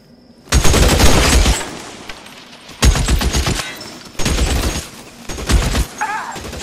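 Bursts of rapid gunfire from the crime-era shooter game L.A. Noire, four loud fusillades of automatic and rapid shots separated by short pauses, close and sharp with echoing tails, and a brief voice near the end.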